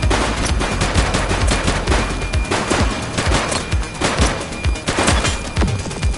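Rapid gunfire from a shooter in a police drama, a loud, sustained string of closely spaced shots that keeps going without a pause.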